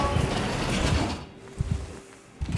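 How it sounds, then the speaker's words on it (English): A creaking door in the sci-fi horror game Soma, heard as low, grinding mechanical groans and several short knocks set against a dim, hollow room tone, with the noise fading out partway through. "I just heard like a door creak noise"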